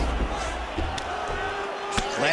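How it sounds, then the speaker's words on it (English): A crowd in the EA Sports UFC 4 video game roars as the fighters get back to their feet, a steady loud arena din with commentary-style talk over it and a sharp impact near the end. "Oh, huge pop from the crowd as the fighters get back up to their feet."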